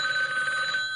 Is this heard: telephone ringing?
yes